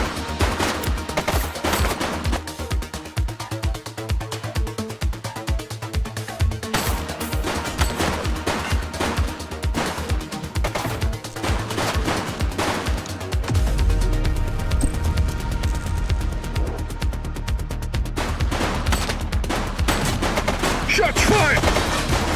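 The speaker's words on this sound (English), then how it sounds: "Shots fired!" Gunfire in the police video game The Precinct: dense, continuous rapid-fire bursts and rattling shots that go on throughout and grow heavier and deeper toward the end.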